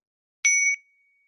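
A single meditation bell struck once during a guided meditation, a clear bright ring with a steady tone that stops after about a third of a second and leaves a faint tail in otherwise silent surroundings.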